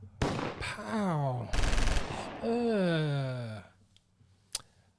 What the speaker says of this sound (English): Maybe even a gunshot, man, or two.